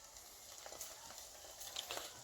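An egg sizzles gently in a pan for a toasted ham sandwich, a faint, steady hiss with small crackles and no talk.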